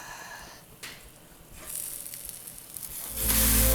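A sourdough pancake is flipped in a hot pan, with a soft scrape and thump, then a steady sizzle that swells loudly near the end, close and alone without talk.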